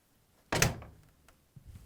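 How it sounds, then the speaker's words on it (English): An LG front-loading washing machine door swings shut with a single solid thunk and a short rattling decay, close and fairly loud, followed by faint low handling noise. "And now we can close the door."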